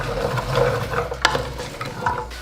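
Softening onions and other vegetables sizzle in a pot for lentil and ham hock soup while being shimmied about, giving a close crackle with a sharp scrape or clack partway through.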